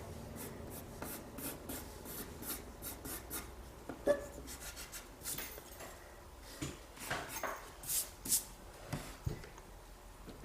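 A pencil scratches and rubs softly on paper, drawing a circle in a manga figure sketch, with quiet irregular strokes and light taps, close and faint with no talk.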